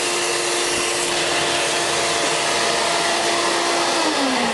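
A vacuum cleaner roars steadily as it sucks up gnats and flies around a Worm Inn Mega worm bin, a loud, constant whine with a slight pitch drop near the end and no speech.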